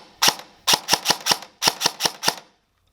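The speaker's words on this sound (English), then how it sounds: "So we've got the gun on semi-auto" Airsoft gun fitted with a Gate Titan V3 MOSFET firing on semi-auto: eight sharp, loud snapping shots, one alone, then two quick runs of rapid single shots, with no talk.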